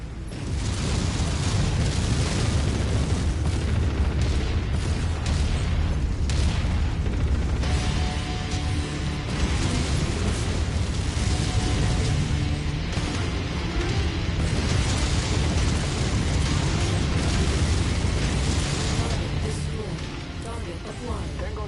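An enemy mech exploding in MechWarrior 5: a dense, loud booming and rumbling blast layered over constant heavy combat noise, with voices talking throughout.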